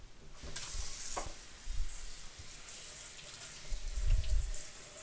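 Three cups of rice being rinsed in water: splashing, swishing water and gritty stirring come in uneven bursts, with a louder slosh near the end, and short moments of quiet in between.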